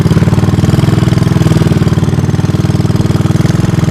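A 1983 Honda ATC200 three-wheeler engine runs steadily at idle, a loud, close, even low putter with a fast regular pulse and no voices.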